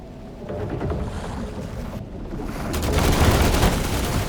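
Rapid gunfire crackles through a stormy scene in The Last Caretaker, striking barrels amid steady wind and water noise; the bursts stay dense and loud, swelling toward the end with no talking.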